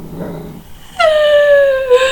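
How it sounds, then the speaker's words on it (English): A little puppy gives a single drawn-out, high yelping howl that slides slowly downward and holds for about a second, preceded by soft low noise, fairly close and clear with no talking. "Listen to the little puppy bark."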